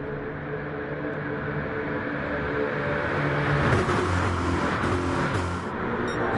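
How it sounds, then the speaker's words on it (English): Race car engines roar in the NASCAR GT video game as the field runs down the back straight: a dense, continuous engine drone and rumble holds steady and swells slightly toward the middle, with no speech. "The thunderous roar of these cars."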